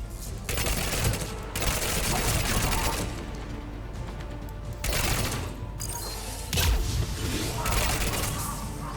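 Mounted gun firing in the video game Mass Effect 3: dense bursts of rapid automatic fire come in waves, loud and continuous with brief pauses, set among battle noise.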